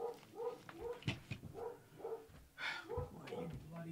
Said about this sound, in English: the dog is barking that bloody thing again